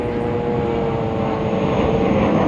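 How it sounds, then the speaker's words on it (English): Airplane passing overhead outdoors, a steady broad engine roar with a faint tonal hum, loud and continuous throughout with no talk. "just let this plane go by."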